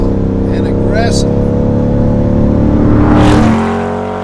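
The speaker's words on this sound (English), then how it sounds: "this system sounds so strong and aggressive" A Chevrolet Corvette C8 fitted with a Borla sport exhaust revs hard, a loud, close, sustained engine roar that rises in pitch and then drops away near the end.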